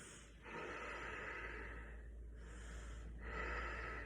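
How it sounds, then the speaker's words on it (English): Breath drawn in and pushed out during a yoga warm-up, heard as soft, airy inhales and exhales in slow sustained waves, close and fairly quiet. "And breathe"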